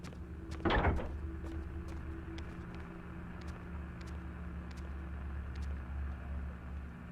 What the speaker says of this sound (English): I like my doors to open this way.